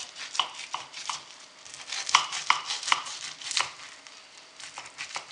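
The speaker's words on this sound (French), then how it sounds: "je vais le couper en petits morceaux" A knife chopping cooked tajine malsouka made with brick pastry into small square pieces on a board, a brisk irregular run of sharp cuts and taps, close and clear, with no talking.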